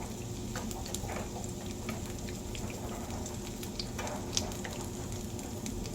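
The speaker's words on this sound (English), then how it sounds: "It shouldn't take long to fry them up." Apple fritters fry in hot oil with a steady, dense sizzle and scattered light pops and crackles, close and continuous, with no talking.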